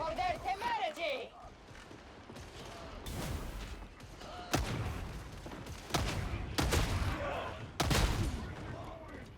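Bolt pistol from a Warhammer video game firing a few heavy, shotgun-like booming shots at irregular intervals, loud and close amid game battle noise, with someone talking over parts of it.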